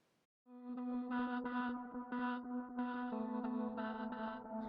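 Alchemy synth patch built from only its A and B oscillators, a sustained tonal chord with a strong low fundamental and shifting upper harmonics. It plays alone at low volume for about four seconds after a short quiet start.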